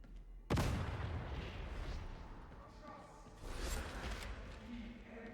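A grenade explodes in Warhammer 40k Darktide, a sharp loud blast followed by rumbling combat noise, with a second burst a few seconds later under ongoing game sounds and speech.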